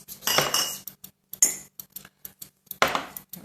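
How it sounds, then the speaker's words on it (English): Glass jars clink and knock against a kitchen counter as they are slid aside, a quick series of close, bright rattles separated by brief silences. "So I'm going to put these jars off to the side so we can keep chopping veggies."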